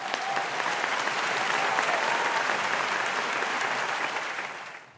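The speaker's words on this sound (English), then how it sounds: "Let's give all our eWeek winners a big round of applause." An audience claps for award winners at an E-Week engineering celebration, a dense steady round of applause that holds for several seconds before fading out at the end.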